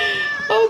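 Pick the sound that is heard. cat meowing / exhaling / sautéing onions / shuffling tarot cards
cat meowing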